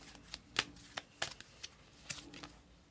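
Tarot cards being shuffled and pulled from the deck, a series of soft, quick riffling flicks and slaps in irregular bursts, close and quiet with no voices.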